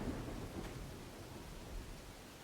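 A thunderstorm in the video game Dawn of Man: a low, steady rumble of thunder with a wash of rain, faint and continuous with no talking.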